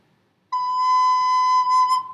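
A recorder holds the note B as one steady, pure tone lasting under two seconds, close and clear, alone with no voices.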